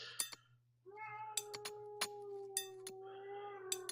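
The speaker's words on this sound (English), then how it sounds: "ignore the cat guys, apologies for that" A domestic cat meows several times indoors, its drawn-out, wavering cries sitting over a steady low hum and scattered sharp clicks, fairly close and clear with no talking.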